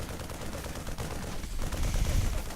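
Rapid gunfire from StarCraft II units shooting down a Zerg Overlord, a dense crackling barrage that swells louder toward the end over steady game background noise.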